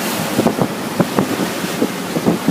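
Boat pounding through rolling swells on a wide river near St. Louis, with repeated low thumps of hull slaps and splashes under steady wind buffeting the microphone.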